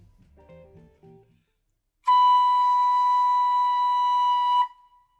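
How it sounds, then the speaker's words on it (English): A clear, steady note B from a plastic Nuvo TooT recorder-like flute, held for about two and a half seconds, plain and breathy, preceded by a few soft low sounds, then silence. "This is the note B, and it should sound like this."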